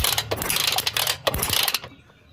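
A TVS XL 100 moped being kick-started gives a few quick, close mechanical clatters and ratcheting strokes, then the noise cuts off into quiet.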